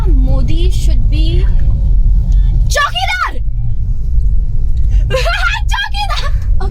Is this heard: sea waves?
no